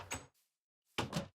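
Two short wooden knocks from a dark oak door placed in the video game Minecraft, close and crisp, separated by a brief silence.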